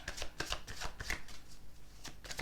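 Oracle cards from a Goddess Guidance deck being shuffled and handled up close, a run of soft papery riffles and slaps in quick bursts, quiet and without talk.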